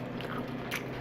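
Someone bites into a homemade taco, one short close crunchy bite with chewing, heard alone without talk.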